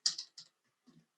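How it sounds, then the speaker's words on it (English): Several quick keystrokes on a computer keyboard, a fast cluster of taps followed by a pause and two softer clicks, close and quiet with no talking. "I just start typing, okay?"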